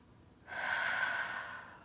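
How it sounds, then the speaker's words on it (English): A single deep belly breath, drawn in slowly and audibly close to the listener, swelling and then easing off over about a second and a half. "Some nice deep belly breaths."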